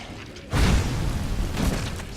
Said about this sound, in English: And then we'll set this trap off. Boom! Boom!